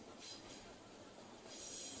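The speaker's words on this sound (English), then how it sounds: "As another train passes by." A train rumbles past a floodlit football ground during a night match, a steady broad roar with faint wheel noise rising toward the end, heard from a distance under the open-air ambience.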